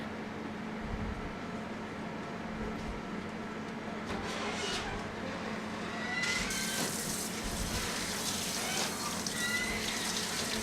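Hands are washed under a running tap, with a steady rush of water into a sink and splashing that grows busier partway through, close and continuous with no voices.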